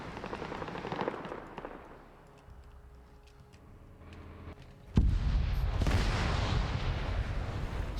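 A tank's cannon fires in an Arma video game mission set in the Stargate universe: one sudden, heavy blast about halfway through, followed by a loud, rumbling roar that lingers after a quieter stretch of battlefield ambience.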